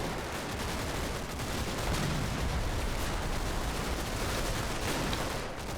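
Dense, continuous gunfire and distant explosions from World War II combat in the Normandy war game Combat Mission: Battle for Normandy, a steady roaring barrage with no pauses or voices.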